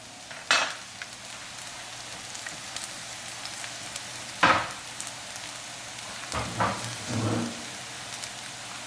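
Garlic hits a frying pan of lightly browned shallots for shrimp scampi, giving a steady close sizzle under several louder bursts as the pan is stirred and scraped.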